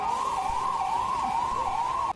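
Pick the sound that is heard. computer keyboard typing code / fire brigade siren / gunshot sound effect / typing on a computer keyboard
fire brigade siren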